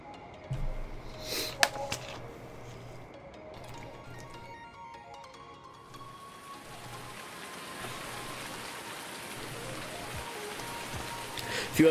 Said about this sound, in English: we've got rain. Lord, how rare is rain on the game?